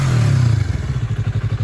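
A 2021 Yamaha MT-03 sits at idle, its engine settling from an initial blip into a steady, low, lumpy pulsing throb with light mechanical clatter, close and alone.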